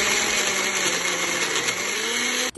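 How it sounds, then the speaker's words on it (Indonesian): An electric blender runs steadily at high speed, whirring through chopped fruit for juice, loud and close, then cuts off abruptly at the end. "di sini langsung aku blender."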